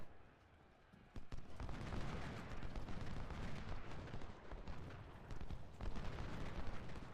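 Artillery fire in the Civil War strategy game Ultimate General: Civil War comes as a dense, continuous barrage of booming cannon blasts and rumbling detonations. It starts quietly, then swells abruptly into a loud, sustained roar with sharp individual reports.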